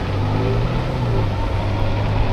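A city bus rolls past in traffic at a busy Orange County intersection, a steady, loud low engine rumble with a droning hum that stays close and constant, heard from an e-bike with no talking.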